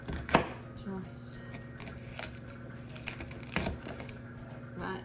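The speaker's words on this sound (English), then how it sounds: "I want nice thick pieces, so I'm not dicing by any stretch. Just giving a chop." Knife chopping onion into thick slices for ratatouille on a cutting board, a few sharp chops spaced out, quiet and close with a low background hum.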